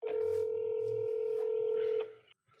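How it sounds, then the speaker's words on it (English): A telephone rings indoors with a steady electronic tone held for about two seconds before cutting off, alone and fairly loud. "you better answer that dang phone"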